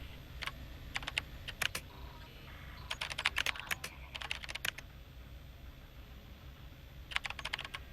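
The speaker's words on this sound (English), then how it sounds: "You literally have to type in what you want to do or what you want" Keys tapped on a computer keyboard in the space game Event[0], coming in short irregular bursts of crisp clicks separated by pauses, close and fairly quiet over a soft ambient hum.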